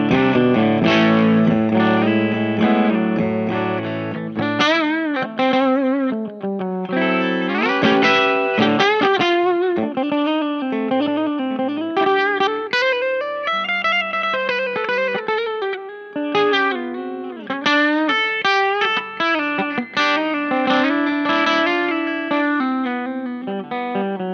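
An electric parts guitar in standard tuning, played with a pick through distortion and effects, rings out a continuous melodic run of notes and chords, loud and sustained without pauses.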